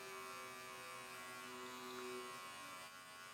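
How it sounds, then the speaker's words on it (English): A Babyliss Profile electric shaver buzzes steadily and close during a skin fade on coarse, thick hair, holding a constant motor hum with no pauses. "It's actually the Baby Bliss Profile Shaver."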